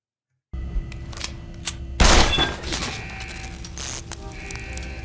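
Shots fired at a security camera in Deus Ex Human Revolution Director's Cut: a sudden loud gunshot burst with clattering impact after a quiet game ambience, followed by lingering alarm-like tones.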